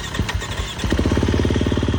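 A tuned Husqvarna 350cc motorcycle fitted with a full FMF exhaust idles close by, its steady low, rapid thumping pulses stumbling briefly before settling into an even, throbbing beat.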